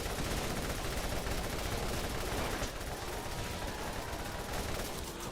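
Dense, continuous gunfire from the video game Borderlands 1, a steady barrage of rapid shots and explosions with no pauses and no talk over it.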